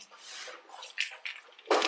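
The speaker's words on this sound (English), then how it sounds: "I've got my water rattles" Water-filled rattles shaken by hand, giving soft sloshing, rustling washes with a few sharper bursts of shaken water, the loudest near the end.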